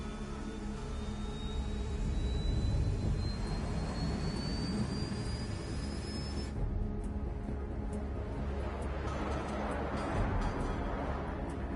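A fighter jet's engine roars steadily as the aircraft takes off in Ace Combat 7, a loud continuous rushing drone with a rising whine that cuts out partway, leaving a broad blasting hiss.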